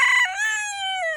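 A backyard rooster crows once, loud and close, a single drawn-out call that slides down in pitch and fades.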